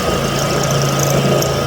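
A Mini Mill X3 plunging a cutter into metal: a steady, loud motor hum with a strong low drone and continuous grinding vibration, unbroken throughout and without voices.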